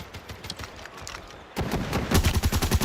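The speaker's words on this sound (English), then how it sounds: "PKM shots through the smoke" PKM machine gun fire in Call of Duty Mobile at a world championship finals match: a dense stream of rapid shots that grows louder and heavier halfway through, with no talking.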